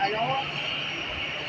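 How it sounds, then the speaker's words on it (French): An EasyJet airliner on the tarmac just after landing, a broad, steady engine roar with a talking voice over it. "il y a un EasyJet qui vient d'atterrir"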